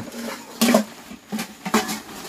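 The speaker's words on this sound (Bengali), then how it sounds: "খুন্তিটা বার করো বাবা, খুন্তিটা ঢাকনাটা বার করো।" Metal spatula and pot lid clattering as they are pulled from a sack, a few short metallic knocks and rustles with quiet pauses between them.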